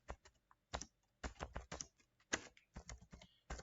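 Code being typed on a computer keyboard, a close, clear clatter of keystrokes in uneven bursts separated by short pauses.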